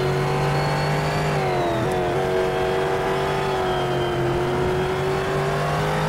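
A Ford GT race car engine in a sim racing game at Silverstone drones steadily and loud close up, its pitch holding high, dipping briefly, then climbing again.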